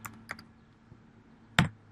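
Three or four sparse keystrokes on a computer keyboard while entering numbers into a spreadsheet, with faint clicks early on and one louder, sharper tap near the end, over a quiet room hum.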